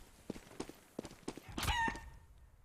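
Chicken clucking and squawking in a Counter-Strike match, a few short clucks building to a louder flurried squawk, with soft game footsteps around it.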